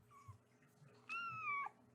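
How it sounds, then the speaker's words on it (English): A new kitten meows softly indoors: a faint short chirp, then a clearer, longer rising-and-falling meow, close and quiet with no talking. "New kitty in the household, and she is awesome."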